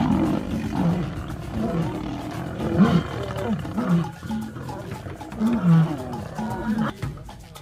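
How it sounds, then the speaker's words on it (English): Four territorial lionesses roar, snarl and growl as they attack a lost lioness, a loud, close and nearly continuous wave of overlapping roars with repeated surging peaks. "This lost lioness is being attacked by 4 lionesses who rule the territory."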